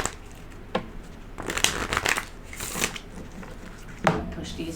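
A deck of tarot cards is shuffled close by: a run of crisp riffling and flicking bursts, with sharper snaps at the start, in the middle and near the end, with no talking.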